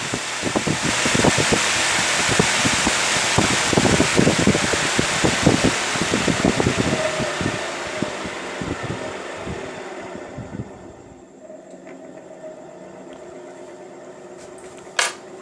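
Small DC motor from a cooler driven at full speed through a speed controller, a steady whirring hum with rattling clicks that winds down and fades to near silence.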